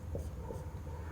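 Chalk or marker strokes on a classroom board, soft scratchy marks in a short burst, quiet and close against steady room noise.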